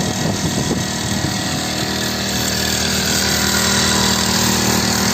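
A water-proof, air-cooled power tiller engine runs steadily with a loud, dense mechanical drone and rattle, holding constant throughout without pause.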